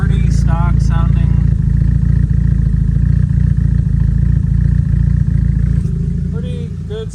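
A Honda D16 turbo engine fitted with a Savage cam idles steadily and loudly up close, a smooth rumbling pulse throughout, with brief voices over it near the start and toward the end.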